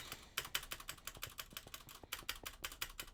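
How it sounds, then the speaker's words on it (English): A loud mechanical keyboard's spacebar hammered rapidly again and again, sharp close-up clacks in quick bursts with brief pauses between runs. "Just listening to a spacebar. My mechanical keys are rather loud."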